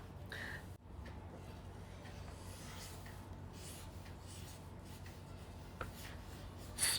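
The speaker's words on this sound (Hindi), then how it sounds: "तो मैं लिख रही हूँ।" Pen scratching across paper in a quiet room at night, soft continuous rubbing strokes, close and faint with no talking.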